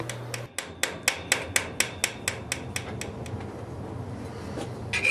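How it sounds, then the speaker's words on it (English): A light cross peen hammer riveting tenons on blacksmith work, a steady series of about fifteen crisp metallic taps at an even, brisk rhythm, close and clear, with no talking. "you use a light cross peen to rivet the tenons in place"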